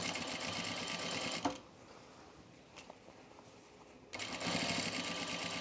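A sewing machine runs pink thread through fabric in two close, steady whirring bursts, separated by a quieter pause with a faint click.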